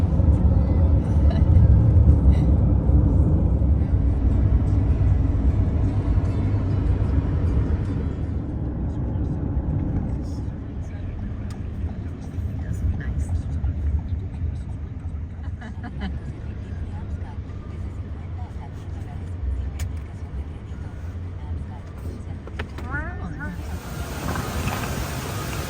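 Steady road and engine rumble from inside an Uber car on a long drive, a continuous low drone that softens after the first few seconds, with people talking over it.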